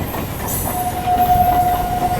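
Duronto Express passenger train on the Sealdah to Bikaner route, heard from on board: a steady, loud rumble of wheels and carriages with a faint sustained squeal running through it.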